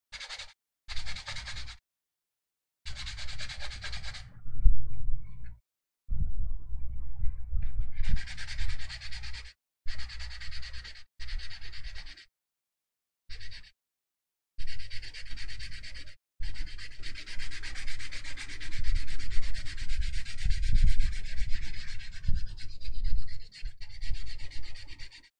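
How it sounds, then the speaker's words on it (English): Close, rasping strokes of sandpaper smoothing filler on a model, coming in repeated bursts of back-and-forth rubbing separated by short silent gaps, fairly loud with no talking. "Then I'll sand it down again."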